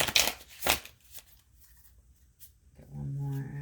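Tarot cards riffle and slap in two quick, crisp bursts up close, followed by softer handling rustles and a faint steady hum toward the end.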